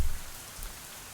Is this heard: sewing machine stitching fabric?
no